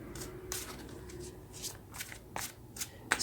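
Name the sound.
tarot cards being shuffled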